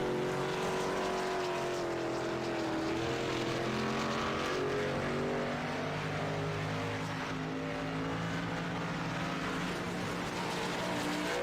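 Race car engines scream at high revs around Road America in the iRacing sim, a steady, droning wail with shifting pitch as several cars run at speed, continuous and fairly distant under a broadcast-style mix.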